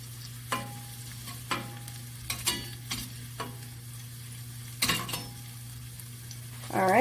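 Sausages fry in a pan for a breakfast bowl and are turned with a utensil: a soft background sizzle with several sharp scraping clicks of stirring and flipping, spaced irregularly, and a brief louder rattle at the end.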